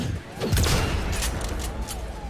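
Sniper rifle fire in the Cyberpunk 2077 video game, a heavy close-range blast followed by a booming tail under ongoing game noise and a talking voice.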